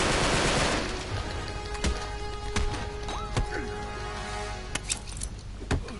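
Gunfire in the video game Uncharted 3: Drake's Deception, sharp scattered shots and bursts cracking over a steady rumbling backdrop, irregular and fairly close.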